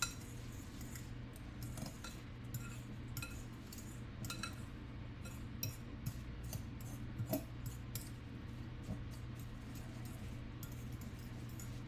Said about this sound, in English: I'm just going to take a fork and I'm just going to mix it up